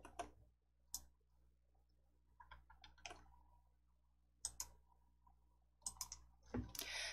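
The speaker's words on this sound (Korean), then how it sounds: "닫기 클릭." Sparse, quiet computer mouse clicks in a desktop office program, several sharp isolated ticks spaced irregularly with faint handling noise between them, no talking.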